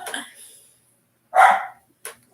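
A dog barks, opening with a faint yelp and then a loud, close, single bark followed by one short yip after a brief pause.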